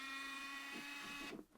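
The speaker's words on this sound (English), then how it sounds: "The one thing I've noticed about these Pentax cameras is they sound like dentist drills" A Pentax Espio 838 compact camera's lens zoom motor whirs with a steady, faint, high-pitched drill-like whine that ends with a couple of small mechanical clicks.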